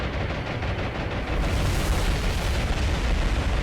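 Intense anti-aircraft fire in the naval game War on the Sea, a dense, continuous roar of booming guns and bursting shells, loud and unbroken throughout with no distinct individual shots.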